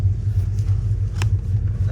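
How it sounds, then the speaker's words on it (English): A Ford Fairmont XC GXL at the Red Centre Nats 2024 drives past with a steady, deep engine rumble close by, while voices talk faintly over it. "we haven't filmed any of the car driving"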